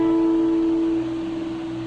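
A single sustained guitar note picked at the tenth fret of the second string, ringing clearly and decaying slowly over about two seconds with no talk.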